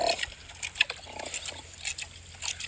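Pigs grunting and snorting on a farm, heard as a played-back recording: a series of short, quiet nasal grunts and snuffles at an uneven pace, with a faint watery trickle in the background.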